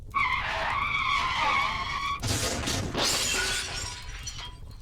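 Car tires screech loudly for a couple of seconds, then a violent crash with shattering glass and clattering debris.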